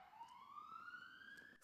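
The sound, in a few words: ambulance siren passing outside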